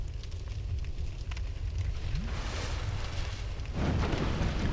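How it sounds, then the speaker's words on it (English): Fire burning in the Dark Souls 2 video game, a steady roaring crackle with low rumble throughout, swelling louder near the end, no talk. "requiring you to cross through fire to upgrade your pyromancy flame"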